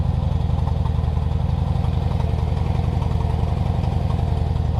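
A freshly started engine idles while warming up, loud and near, with a steady, even chug and a rapid rhythmic pulse that stays constant throughout.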